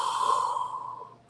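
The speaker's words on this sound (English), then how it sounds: "you get the Vader breathing apparatus going on" Darth Vader's mechanical breathing apparatus from Star Wars, a single close, steady hissing respirator breath that swells and then fades out, heard alone.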